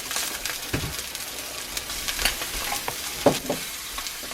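Surf and turf sizzling steadily in a cast iron pan just after being flipped, a continuous frying hiss with occasional sharper pops and crackles, close and fairly loud throughout.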